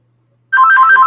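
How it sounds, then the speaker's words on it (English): Phone ringtone that starts abruptly after a moment of silence and plays a loud, close, warbling electronic trill. "My phone's ringing off the hook."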